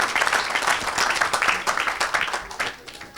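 A church congregation applauds and cheers during an evangelist's service, dense clapping with scattered voices rising and falling, fairly loud and steady throughout.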